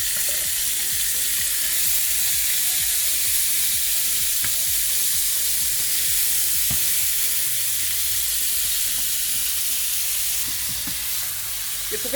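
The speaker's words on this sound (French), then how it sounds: "Voilà le fond d'huile. Et là, je mets les crevettes." Shrimp fry in oil with a loud, dense, continuous sizzle and hiss close by, and faint stirring and pan knocks underneath.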